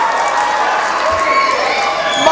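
A crowd at a live pro wrestling show cheers and shouts steadily throughout, loud and dense, with a commentator talking over the noise.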